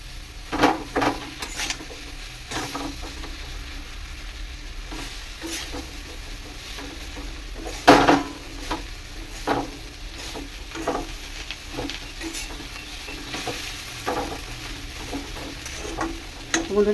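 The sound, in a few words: leafy greens (shak) cooking in a pan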